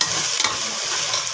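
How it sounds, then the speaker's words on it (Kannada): Ghee rice frying in a pan and being stirred, a steady dense sizzle with scraping stirs throughout, close and loud, no voices. "ಸೊ ಈಗ ಇನ್ನೊಂದು 5 ನಿಮಿಷ ಇದನ್ನು ನೀಟಾಗೆ ಫ್ರೈ ಮಾಡ್ಕೊಳ್ಳೋಣ."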